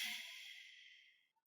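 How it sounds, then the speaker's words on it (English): A long, soft exhale during seated chair yoga, a close breathy whoosh that fades steadily over about a second before trailing off into quiet. "Take a full inhale, exhale."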